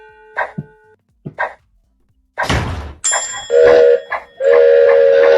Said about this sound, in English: So there is a train chugging.